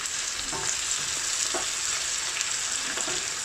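Peppers and onion cook on high heat for lamb korahi, a steady close sizzle with occasional sharper crackles and stirring scrapes, no voices.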